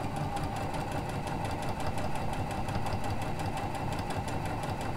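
A Janome sewing machine fitted with a 9mm lap-seam foot stitches a lap seam, giving a steady, continuous mechanical hum with a fast even rhythm throughout, close up and alone.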